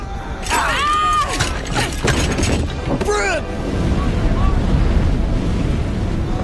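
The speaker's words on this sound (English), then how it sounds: "Firestorm's creating its own wind." Wind whipped up by a firestorm roars and buffets steadily, loud and close. Shouting voices cut over it early on, then the gusting rumble carries on alone.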